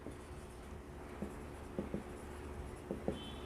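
Chalk or marker writing on a board, a few faint taps and short strokes spaced apart over a quiet room hum.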